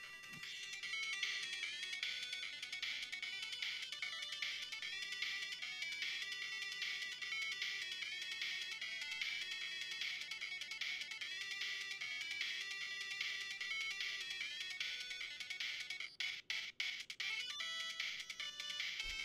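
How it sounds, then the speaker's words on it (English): A phone alarm set for noon plays a repeating electronic ringtone melody, steady and continuous for many seconds, with a few brief clicks near the end and no talk. "That's my noon alarm."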